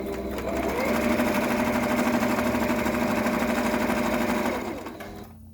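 Sewing machine top stitching the bottom edge of a fitted fabric mask, a close, steady motorized whirring with fast needle chatter that runs for about four seconds, then winds down and stops.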